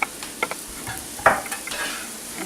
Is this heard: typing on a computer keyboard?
no